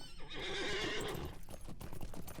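Hooves clip-clop steadily as a horse whinnies in the fantasy online game LOTRO, the in-game animal close and clear throughout.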